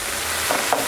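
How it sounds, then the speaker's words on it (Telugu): Okra (bendakaya) frying in a pan for chutney gives a steady, soft sizzle with a couple of faint stirring scrapes, heard alone without voices. "మనకి బెండకాయలు బాగా మగ్గిపోతున్నవి, ఏగినవి"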